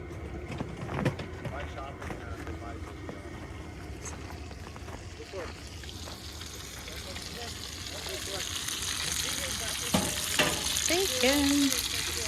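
Bacon sizzling in a pan, a steady crackling fry that grows louder over the course, with occasional clinks and people talking underneath.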